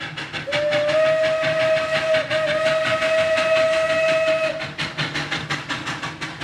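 Steam locomotive (Maria Fumaça) arriving at a station, its loud sustained whistle blowing for about four seconds over rumbling rail and steam noise, then rhythmic chuffing continuing after the whistle stops.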